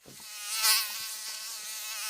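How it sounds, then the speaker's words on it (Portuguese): A mosquito buzzes close by with a thin, high, continuous whine that swells as it passes nearest and then holds steady, with a few faint low knocks underneath. "Tem um mosquito muito sem noção aqui"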